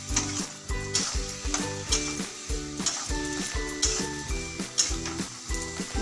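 Masala and potato pieces sizzle in a hot pan while a utensil stirs and scrapes in a regular rhythm, knocking against the pan close up, with no voices.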